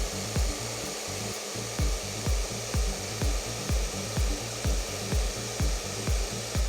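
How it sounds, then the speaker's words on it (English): A handheld hair dryer blows steadily while drying hair during a styling session, its constant airy roar cut by rhythmic pulsing bursts from repeated brushing strokes, fairly close and with no talk. "you're just going to take the dryer and you're going to start drying it"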